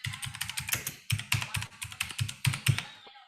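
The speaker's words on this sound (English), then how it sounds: "let's just type it in" A search query for pest control services tapped out on a computer keyboard, a quick irregular run of close, crisp keystrokes in short bursts with brief pauses between them.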